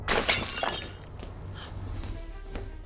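A magic mirror shatters with a loud crash of breaking glass at the start, followed by a scattering of shards and a faint tinkle as pieces settle.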